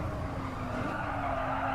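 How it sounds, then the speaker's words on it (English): Tires scrub and skid under hard braking as a race car slides sideways into a corner in Gran Turismo Sport, a steady loud squeal over the engine drone with no talk. "Hard under brakes here, a little bit of sideways action"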